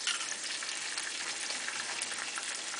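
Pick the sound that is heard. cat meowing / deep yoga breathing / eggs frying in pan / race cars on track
eggs frying in pan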